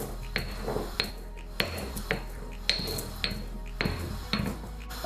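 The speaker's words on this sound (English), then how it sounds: "What we're gonna do is our cumin seeds and coriander seeds, we're gonna just break them a little bit." Cumin and coriander seeds being crushed in a kitchen, sharp repeated pounding knocks at a steady rhythm, roughly two per second, close and distinct.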